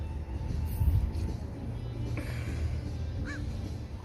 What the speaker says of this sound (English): Mom Crow